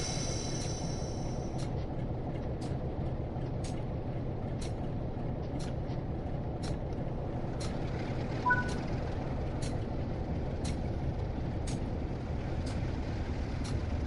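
A train's air brake being released in a UK train-driving video game, with a steady engine rumble running throughout and a series of regular faint high clicks or beeps over it.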